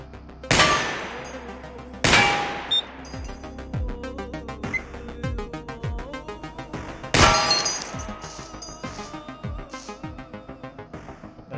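Gunfire in the game Receiver II destroying a turret: three loud, sharp shots with ringing metallic tails, followed by rapid clattering impacts and falling clinks, close and dominant.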